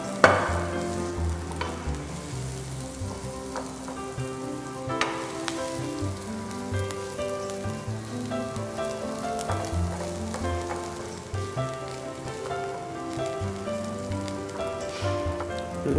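Onion fries in a pan with a continuous, crackling sizzle that stays even throughout, over faint tonal sounds in the background.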